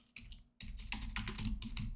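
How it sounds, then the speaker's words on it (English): A computer keyboard clicks with quick, uneven typing, a short burst at first, a pause, then a denser run of close keystrokes. "Again, having some issues typing here."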